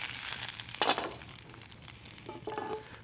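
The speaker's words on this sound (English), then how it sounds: "So I'll cook the bangers and English sausage." English sausages and mashed potatoes heat up in a skillet outdoors, giving a soft, steady sizzle with a few brief scraping and crackling bursts, close and fairly quiet, with no voices.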